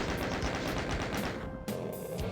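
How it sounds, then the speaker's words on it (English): Rapid, continuous gunfire from the classic Doom shooter, loud and dense with overlapping shots and blasts. A short lull comes midway, then firing resumes, battling Satan in a pentagram-shaped room. "How to defeat Satan? Keep shooting at him."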